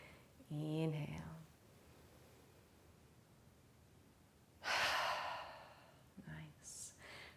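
A voiced sigh at the start and a loud breathy inhale near the middle come during a fertility yoga class, set against quiet room tone, with a short murmur near the end.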